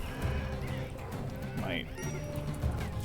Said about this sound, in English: we're really gonna die to donkeys?